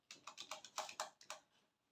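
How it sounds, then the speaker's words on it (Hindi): Keys tapped on an old computer keyboard by a girl learning to type, about ten quick, close keystrokes in an uneven rhythm that then trail off into quiet. "सिमी ना टाइपिंग सीख रही है कंप्यूटर में"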